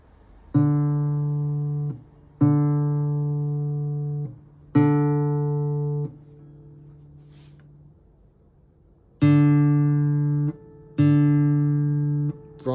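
Repeated plucked notes on the D string of a Cordoba C9 parlour acoustic guitar, five separate sustained notes ringing out with clear harmonics and a softer gap in the middle.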